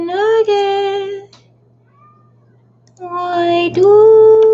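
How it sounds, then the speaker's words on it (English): A pet cat named Nugget meows loudly and close by, two long drawn-out cries separated by a pause of near silence, with a low steady hum running underneath. "Why do you cry, my kitty?"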